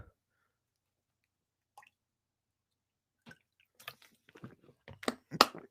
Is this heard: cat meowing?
no